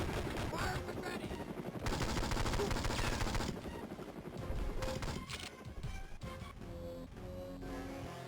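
Rapid video-game gunfire from the 2003 Game Boy Advance title 007: Nightfire, dense bursts of shots with a louder stretch in the middle, over background game music and effects.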